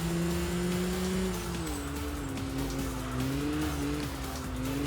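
A race car in the video game Enthusia holds a loud, steady engine drone, its pitch sagging and wavering as the car slides through a corner, with faint tire scrubbing beneath and no voices.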